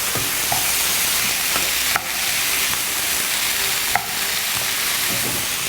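Chickpeas with grated ginger and its juice frying in a hot pan, a steady close sizzle throughout with a few brief stirring scrapes, no voices.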